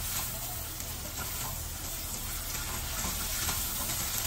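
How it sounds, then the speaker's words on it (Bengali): Spice paste with green chilies sizzles and fries in a pan, a steady bright crackling hiss close up, with faint stirring underneath. "ভালো করে মশলাটা কষাইতে হবে।"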